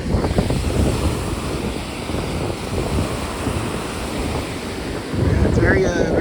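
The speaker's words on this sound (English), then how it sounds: "The ocean breeze is actually kind of nice." Ocean breeze and surf rolling in at Coney Island Beach, a steady broadband wash of waves with wind buffeting the microphone, swelling louder near the end, with no talk over it.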